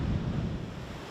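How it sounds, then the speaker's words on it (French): Strong ocean surf under a heavy swell warning, a steady loud roar of breaking waves with wind buffeting the microphone, continuous and close throughout. "Les vagues sont magnifiques."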